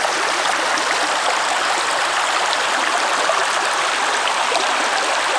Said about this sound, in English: What a charming little stream.